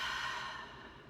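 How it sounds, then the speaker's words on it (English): One slow, deep belly breath flows out softly and close, a breathy exhale that fades over about a second. "take some nice deep belly breaths"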